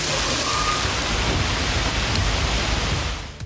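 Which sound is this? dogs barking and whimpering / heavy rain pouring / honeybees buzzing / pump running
heavy rain pouring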